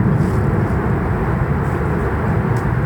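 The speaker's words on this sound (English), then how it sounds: "Now there's a jet plane taking off" Steady, loud broadband roar of a jet plane taking off nearby, a continuous rumbling wash that holds level throughout with no talking.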